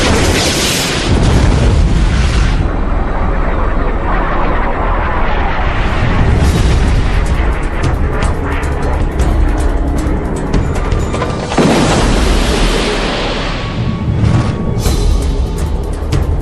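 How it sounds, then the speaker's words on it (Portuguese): A missile explodes against a MiG jet's tail in air combat, a sustained, very loud roaring blast with several heavy bursts rolling over about sixteen seconds, with no talk. "Quando o segundo míssil passou pela cauda e explodiu"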